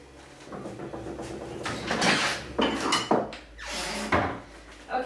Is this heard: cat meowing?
no